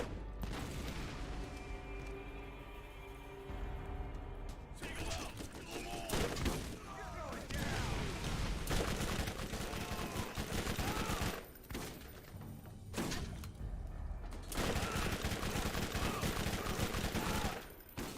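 Sustained gunfire from a weak gun in Borderlands, played on Insanity difficulty, with dense bursts of shots and booms running almost continuously, briefly dropping out a few times, mixed with game sound and voices.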